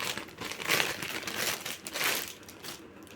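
Plastic packaging crinkling close up as a parcel holding a black and white striped shirt is opened, irregular bursts of rustling and crackling rising and falling in short waves without talking.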